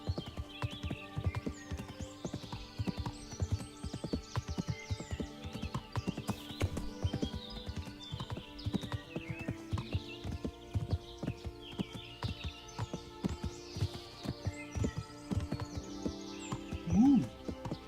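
Steady, rhythmic clip-clop of horse hooves as the horse Pebbles is ridden in the video game Kingdom Come, close and continuous over faint birdsong, with a brief snort or whinny near the end.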